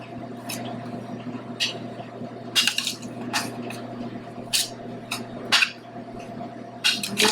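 A spatula stirring roasted root vegetables with garlic in a pan: scattered metallic clinks and scrapes at an irregular rhythm, a few sharper knocks standing out over a low, steady kitchen background.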